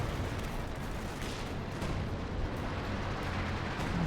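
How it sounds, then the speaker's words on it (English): Heavy artillery barrage pounding a battle group in a strategy game, a dense, continuous rumble of overlapping explosions at steady loudness. "This is major artillery actually coming down on the battle group."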